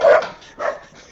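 A dog barks twice, close and loud, with a short gap between the two sharp woofs, during a live podcast.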